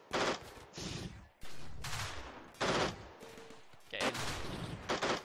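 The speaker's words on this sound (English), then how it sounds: "I don't mind them shooting the turrets" Gunfire at turrets in RimWorld, a series of sharp bursts and volleys coming in uneven clusters, fairly loud, with brief gaps between salvos and no talking.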